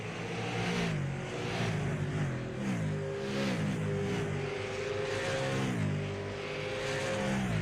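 Super late model race cars racing at Richmond drone loudly and continuously, engines rising and falling in pitch through repeated gear shifts and throttle swells as the pack circles the track.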